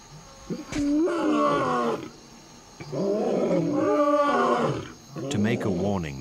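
Several lions roar together in a chorus, with long, rising and falling throaty calls in three loud waves and brief gaps between them, heard up close.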